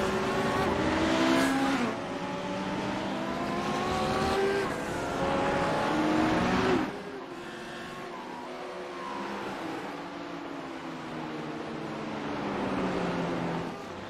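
GT3 race cars in a sim racing game charge through turn 1, with engines howling loudly as they rise and fall through the gears, several cars overlapping close by with brief tyre squeal.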